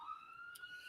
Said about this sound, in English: Funny that you've got a siren going on there back there, Hank